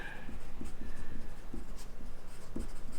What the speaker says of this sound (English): let's write that down